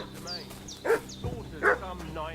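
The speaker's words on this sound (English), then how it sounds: "What's that dog making such a fuss about?" A dog barks and yips in a medieval village setting, with two clear barks rising over a soft background of game music and ambient tones.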